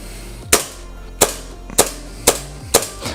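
Five sharp, loud gas-powered shots from an Inokatsu Colt 1911 airsoft replica pistol, each a crisp crack with a short decay, fired at a steady pace roughly half a second apart.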